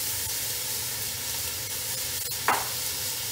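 Bell peppers and onions sizzle steadily in a pot over high heat for a gumbo, a continuous close frying hiss with light stirring scrapes and one brief louder burst toward the end.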